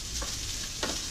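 Rice frying in oil in a small pan on a stovetop at medium heat gives a steady close sizzle, with two quick scraping swishes as it is stirred.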